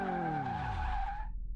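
The tires of a front-wheel-drive widebody Toyota Prius in Car Mechanic Simulator let out a sharp, loud squeal during a handbrake turn, the pitch sliding downward for over a second before cutting off abruptly.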